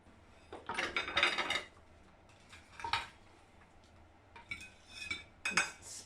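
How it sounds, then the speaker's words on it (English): Food being served onto plates in a home kitchen: a few scattered bursts of cutlery and serving utensils scraping and clinking against crockery, close and moderately loud, separated by quiet pauses. "I'll put them on plates, shall I?"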